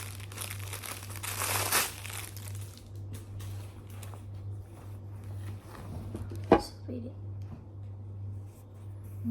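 Plastic packaging from a big SHEIN clothing order crinkles and rustles close up as it is opened, with a dense burst of crackling early on and a sharp snap later, all over a steady low hum.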